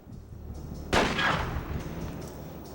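A single sharp gunshot at a practice target in Delta Force: Black Hawk Down cracks out with a short reverberant tail, heard alone against quiet background hum.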